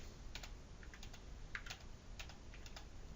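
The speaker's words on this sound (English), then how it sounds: "just type in BSA in the search bar" Typing on a computer keyboard, a quick series of light key clicks at an uneven rhythm, close and fairly quiet over a steady background hiss, with no talking.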